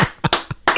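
A few sharp hand claps ring out up close for a criterium race winner, arriving as four or five quick, uneven bursts in under a second.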